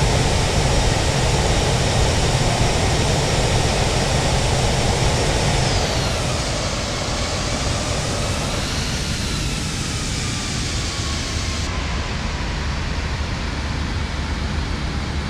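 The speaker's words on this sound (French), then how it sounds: "Et voilà, atterrissage réussi." An airliner touches down and rolls out at Nantes in bad weather, a broad steady roar of engine and wind noise that gradually eases and drops in tone, continuous and moderately loud with no talking.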